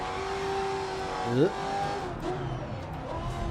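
Racing car in GRID Legends crossing a bridge at night, engine note climbing and sliding in pitch with a brief louder surge and slight grip loss, steady near engine drone throughout.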